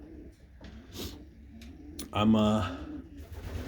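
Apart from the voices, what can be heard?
pigeons cooing in loft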